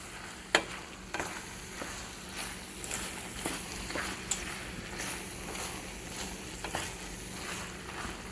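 Pork tortilla filling frying in a pan is stirred steadily, giving a continuous sizzle broken by intermittent scraping and clattering strokes from the utensil, close and moderately loud.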